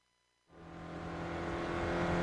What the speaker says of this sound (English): we're in the GSRC SRF, so let's do a lap around Summit Point